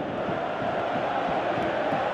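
Simulated stadium crowd in the mobile football game PES 2018, a steady broadband roar with rising murmurs and cheers that holds at a constant level throughout, with no talk over it.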